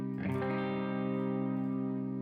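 A single processed electric guitar chord or note in C minor is struck and left to ring out, smooth and sustained, with no talking.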